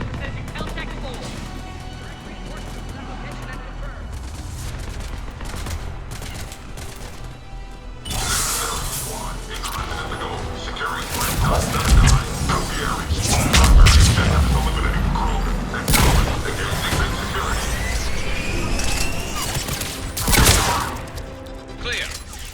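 Enemy gunfire in a Mass Effect 3 firefight, with bursts of shots and booming impacts building through the middle under game music and battle noise.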